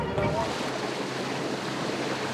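Sea waves washing around a sailing boat running downwind, heard as a continuous broad rush of water mixed with wind noise, steady and fairly close.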